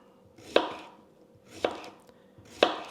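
A knife chops the ends off cucumbers being prepared for bread and butter pickles, three sharp, evenly spaced cuts on a board, close and clear in an otherwise quiet kitchen.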